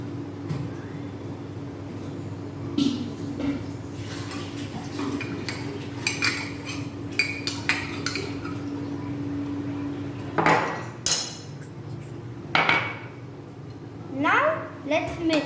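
Minced onion and tomato being mixed in a bowl with a spoon for bhel puri: scattered light clinks and scrapes of metal on the dish, with a few sharper knocks, over a steady background hum and faint voices.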